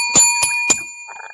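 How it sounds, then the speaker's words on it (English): A bell struck three times in quick succession, each ring bright and sustained with a clear lingering tone, fairly close and loud, followed by faint background noise. "Come on, Shuttle. Hit that bell."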